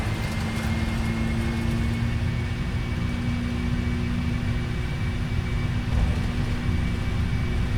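Jet engines of a 747-400F at takeoff thrust in the Prepar3D flight simulator drone in a steady, loud, continuous roar with a sustained low hum, unchanging throughout.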